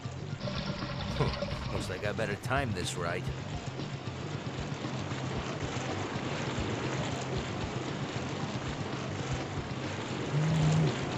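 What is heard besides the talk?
water flowing in the Spider-Man (2001) PC video game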